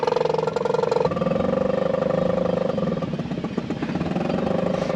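A tiller-steered boat's engine is throttled up in reverse while docking, giving a loud, close, steady throbbing drone that shifts in pitch as power is added.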